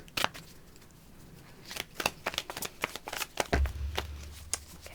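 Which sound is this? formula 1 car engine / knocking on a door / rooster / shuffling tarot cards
shuffling tarot cards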